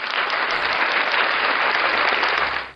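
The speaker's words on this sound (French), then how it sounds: "Un bel applaudissement pour chaque grand ami qui était connecté avec Chanel Saki" An audience applauds with dense, steady clapping for nearly three seconds, fading out at the end with no talk over it.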